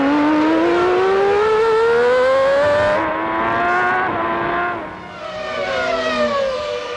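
A Ferrari V12 Formula One car screams at high RPM during the 1994 Japanese Grand Prix at Suzuka, a loud, near, rising whine that climbs through the gears, dips as it shifts down and then builds again.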